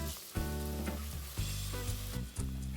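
Chopped onions and tomato sizzle in hot oil in a pan, with steady close frying crackle broken by several stirring surges as the food is moved around.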